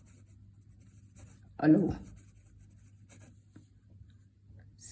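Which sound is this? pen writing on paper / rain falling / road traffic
pen writing on paper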